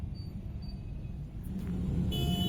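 Traffic rumbling along the streets of Lahore on a Saturday in December, a steady low drone of cars and engines that swells slightly toward the end, heard continuously with no talk.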